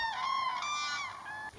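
A migrating crane at the Lac du Der reservoir in France, in its winter habitat, gives one clear, drawn-out trumpeting call that sounds close and loud, with nothing else competing.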